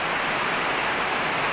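Heavy rain pours down as an unbroken, even hiss, close and steady across the short stretch, with nothing else over it.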